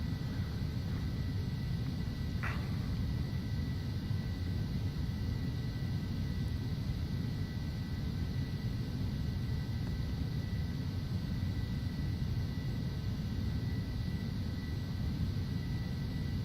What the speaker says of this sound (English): These jet engines in particular sound a little quieter than the last ones